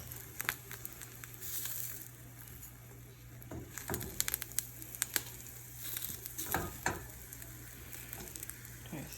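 Eggs cook in a pan with a quiet, close sizzle, broken by occasional scraping and stirring clicks and soft pops.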